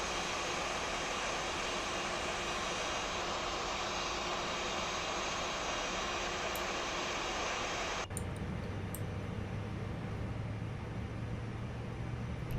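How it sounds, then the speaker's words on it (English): Airbus A320 engine 1 spooling up in the X-Plane 11 flight simulator, a steady broadband jet roar and whine that drops abruptly partway through to a quieter hum with a low tonal drone. "Right, engine 1 is starting"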